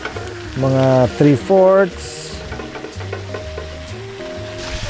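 Ground pork fries on high heat in a pan, giving a steady sizzle under a brief stretch of talking at the start, then continuing on its own with faint clatter.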